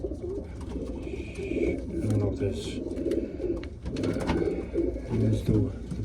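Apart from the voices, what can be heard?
pigeon cooing while being held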